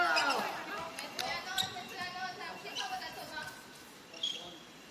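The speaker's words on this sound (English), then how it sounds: "Mizrahi with the bouncing ball" A goalball bouncing and rolling across an indoor court during a Paralympic semifinal, heard as a few sharp thuds under a commentator's steady talk, with faint arena noise in the background.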